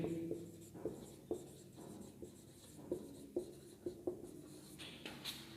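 A pen scratches across paper while an application is written, with soft irregular strokes and small taps, faint and close, with no talking over it.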